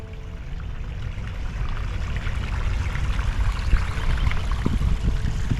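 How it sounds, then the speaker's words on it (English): Water flows steadily in a small fountain-like creek in the game Dinkum, a continuous broadband rush with a few brief splashy accents near the end. "I found this little like fountain creek style"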